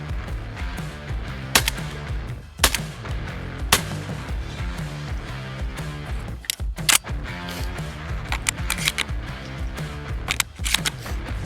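A Browning Maxus semi-automatic shotgun fires at clays outdoors: about eight loud, sharp reports, some in quick pairs, spaced irregularly across the stretch with no talking.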